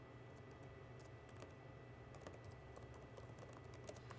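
Steady typing on a computer keyboard, a status being entered: a rapid, continuous run of light key clicks over faint room hiss, alone without speech.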